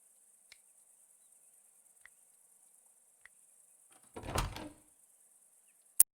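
A locked castle door in the video game Broken Sword 5 gives one short, dull rattle midway through near-silence, with a few faint ticks before it and a sharp click at the end.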